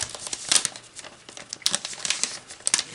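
Crinkly foil origami paper being unwrapped from its pack in a 13.8-inch size, giving bursts of close crackling and tearing with short quiet gaps between them.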